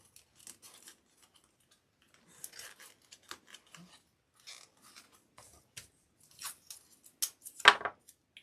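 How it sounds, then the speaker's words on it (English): Close, quiet crinkles, rips and scratchy rubs as tape is handled and stuck down while fixing tile, in scattered short bursts with a sharper tear near the end and no talking. "I may have to stick some of this tape on there to kind of hold everything in place till it dries."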